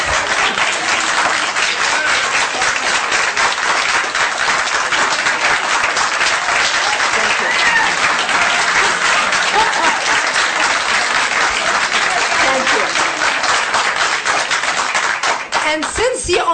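Sustained audience applause fills the whole stretch at a political gathering, loud, dense and steady, with a brief dip near the end.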